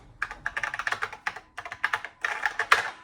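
Rapid typing on a computer keyboard attached to a NABU computer, close and fairly loud, in quick bursts of key clicks with a short pause in the middle and no talking.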